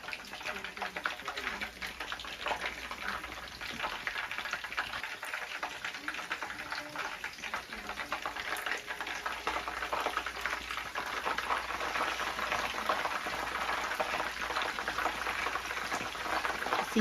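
Battered cod frying in hot grease, a steady dense crackle and sizzle that runs throughout with a slight swell, with a voice speaking faintly now and then.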